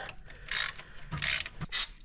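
A 1/2 inch ratchet loosening bolts on a 1997 Ford Festiva during clutch replacement: three quick bursts of close, metallic ratcheting clicks separated by short pauses.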